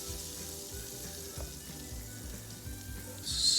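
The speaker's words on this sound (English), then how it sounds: "we're just going to put about 1 tablespoon of butter into the pan" About a tablespoon of butter sizzles and crackles in a frying pan while a breakfast fried egg sandwich is being made. The frying is steady and close, and a brighter hiss rises at the very end. No one talks.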